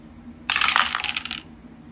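Plastic dice tumble and clatter together in one burst lasting about a second, rolled during a board-game attack with four dice in a World War II Iwo Jima wargame, sounding close and loud before fading.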